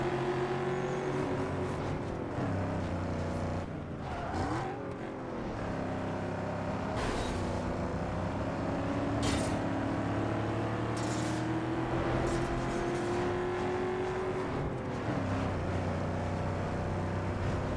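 A luxury car's engine drones steadily in Need For Speed Underground 2, its pitch climbing gradually as it gains speed, with the acceleration sluggish and drawn out, close and continuous with no talk.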